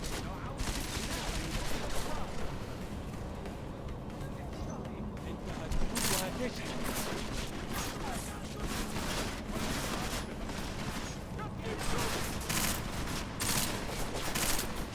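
Sustained machine gun fire in the video game Deus Ex: Mankind Divided, a dense continuous rattle of rapid shots with occasional louder bursts, running steadily throughout with voices talking underneath.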